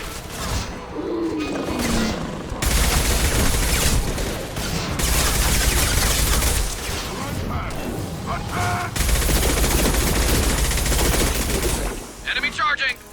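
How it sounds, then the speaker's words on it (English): Heavy gunfire from the Mass Effect 2 video game crackles in dense, loud bursts of rapid shots separated by short pauses, with a few crashing impacts and a quieter stretch at the start and end. "Firing a high-impact shot."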